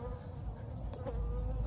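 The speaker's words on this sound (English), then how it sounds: "I'm being attacked by a bee" A bee buzzes close around someone outdoors, a steady insect drone that swells and fades as it circles near the microphone, with no talking.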